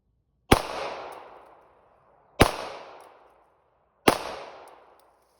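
Three loud, sharp gunshots from a BCA bufferless 9mm rifle, each a sudden crack with a decaying tail, spaced about two seconds apart, close by and with no talking.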